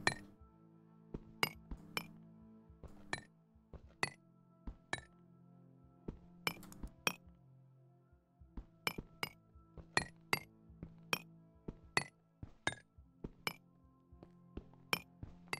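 Sharp metallic-glassy clinks of a chisel striking blocks in modded Minecraft (Infinity Evolved pack), about twenty separate taps in an irregular rhythm, loud and close over a faint low ambient hum.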